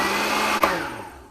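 A blender whirs steadily as it mixes a breakfast batter meant to look almost like crepe batter, loud and close, with a brief click partway through before the motor winds down and fades.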